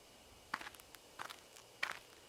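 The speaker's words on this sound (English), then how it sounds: "Just then, there are footsteps close by from the bushes." Footsteps rustle in bushes close by in the horror game Spirit Hunter: Death Mark, three quiet clusters of crunching steps spaced out over a faint ambient background.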